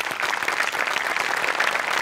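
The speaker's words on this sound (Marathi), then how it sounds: "टाळ्या वाजवल्या पाहिजेत" An audience at a Marathi television comedy show applauds, a dense steady wash of clapping close up for a couple of seconds, heard alone without talk.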